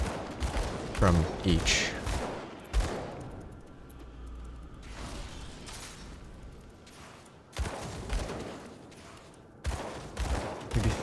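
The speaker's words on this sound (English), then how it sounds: "I'm shooting a little under 2 shots per second" Gunfire from a character's guns in the action RPG Grim Dawn, firing a little under two shots per second in sharp loud bursts with quieter gaps between, mixed with game effects while someone talks over it.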